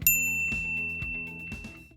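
A notification bell sound effect: a bright, clear ding at the start that rings out, followed by three softer rhythmic chimes spaced about half a second apart, with no speech.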